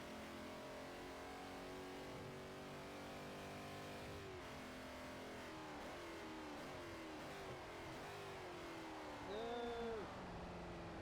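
Car engine revving in the racing game Forza Motorsport 4, a steady loud drone whose pitch climbs and shifts with gear changes, continuous throughout, with a brief higher whine near the end.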